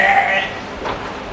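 A cull sheep bleats once at a livestock sale, a short nasal call at the start that fades, followed by quieter background noise.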